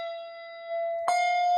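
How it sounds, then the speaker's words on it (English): A handbell held in the right hand rings with a sustained, clear tone, then is dampened with a soft thump and rings on. It is close and fairly loud, with no talk. "the bell on the right hand is ringing and dampening normally"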